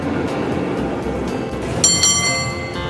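A San Francisco cable car running on its continuously moving cable, with a steady rumbling rattle of wheels and cable close by and a ringing metallic tone joining near the end.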